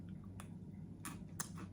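Crunchy bites into a chocolate-covered biscuit stick with a buttery biscuit, two or three sharp crisp crunches close to the mouth over a low steady background hum.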